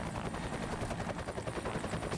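Helicopter rotor chopping steadily in the Tony Hawk's American Wasteland video game, a dense continuous whirring thump with rapid beating throughout, loud and alone.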